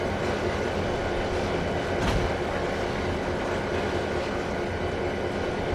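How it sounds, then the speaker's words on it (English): Train rolling across a bridge in the rail simulator Trainz 2022, a steady loud rumble of rail cars with a brief swell of clatter partway through, continuous throughout with no talk. "That's the go through the bridge sound, in case you were wondering"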